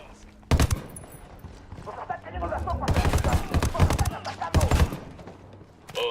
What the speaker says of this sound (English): Opening fire on these fuckers.